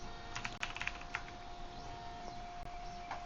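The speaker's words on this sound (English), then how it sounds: "So if I type in resistor again" A computer keyboard being typed on in a quiet room while working on a circuit schematic: a short burst of quick clicky keystrokes, then a few scattered taps, close and fairly soft, with no talking.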